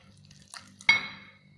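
A spoon scrapes and clinks once against a pot as cheese is stirred into a mixture, one sharp close clatter that rings briefly, with faint handling sounds before it.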